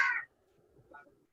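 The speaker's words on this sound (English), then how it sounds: "I can hear a bird squawking" A single harsh crow caw, loud and brief, followed by a fainter second call, heard at a distance over a quiet background.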